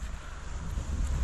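Outdoor wind buffets the microphone in a steady, rumbling rush with small gusty swells, with no voices during the moment.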